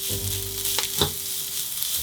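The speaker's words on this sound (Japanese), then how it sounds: "フライパンにごま油小さじ1、 ちりめんじゃこを大さじ2、約 10g、 葉がしんなりするまで炒めます" Small dried chirimen jako fish and leaves stir-fry in sesame oil in a frying pan, a loud, steady sizzle broken by a couple of quick stirring scrapes.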